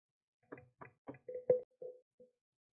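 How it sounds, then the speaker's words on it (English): Knuckles rap on an oak door in a series of about eight knocks spread over two seconds, the early raps distinct and hollow, the later ones duller and softer, fading toward the end, with no voices. "I knock again."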